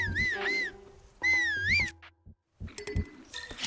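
Video game character whistling two warbling, wavering tones in short phrases, clear and close, followed by a pause and then game sounds.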